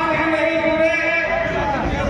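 Large crowd at a political rally in Barkagaon, a steady dense babble of many voices with loud chanting or cheering tones over it, close and continuous.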